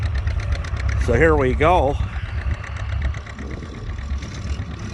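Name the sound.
antique red tractor engine running, likely Farmall H or M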